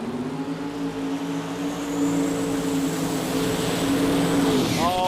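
Drag racing cars at the Garrett Sydney Jamboree 2024 Australian sports compact event launch side by side, engines holding a loud, steady roar with wheel skid that swells and then shifts abruptly at the end.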